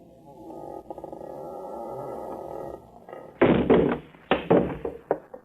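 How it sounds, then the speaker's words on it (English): A door is shoved open in an old-time radio drama, heard as a few heavy knocks and thumps with a scraping creak after a stretch of muffled low rumble, loud and close. "I'm going to shove the door open, shine my light in."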